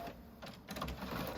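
An inkjet printer runs a print head cleaning cycle, giving a soft mechanical whir with faint clicks and shuffling movements, quiet and continuous.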